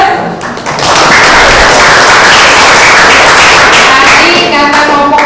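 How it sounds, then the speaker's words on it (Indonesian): A group of people claps together at a community gathering, a loud, dense, steady burst of applause that rises quickly and holds for several seconds. "Oke, aplaus."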